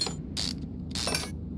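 Ratchet working on rusted brake caliper bolts in a car mechanic simulator game: two quick bursts of rapid clicking, each about a fifth of a second, with a low mechanical hum underneath.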